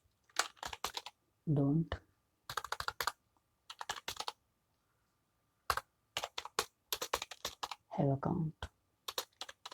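Bursts of computer keyboard typing while text is entered into a login and registration screen, the clatter arriving in short clustered runs close by, alternating with someone talking between and over the keystrokes.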